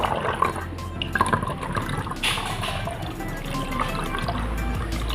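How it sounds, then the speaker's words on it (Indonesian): Water poured into a container for a homemade rat-repellent liquid, a steady splashing trickle with scattered drips, fairly close and alone. "Kita tambahkan sedikit air, teman-teman."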